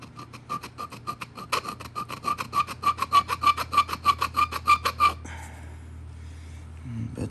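Rhythmic rasping strokes as a groove is worked into stone for pressure-assisted indirect percussion: about twenty steady back-and-forth scrapes, close and clear, growing stronger before stopping abruptly, with quiet background afterward.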